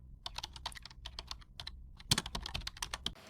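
Rapid clicking of keys on a computer keyboard while text is entered in MS Word, a quick uneven patter of close, crisp taps with short pauses and a denser burst near the end.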